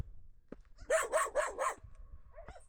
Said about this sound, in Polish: Jedna z niewielu rzeczy, których się boję, czyli dzikie psy.